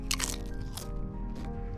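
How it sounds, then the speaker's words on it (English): Crunching bites into a white corn tortilla chip, a few loud crisp cracks close to the mic followed by quieter chewing, no speech. "Sorry in advance for the loud crunch that you're gonna hear."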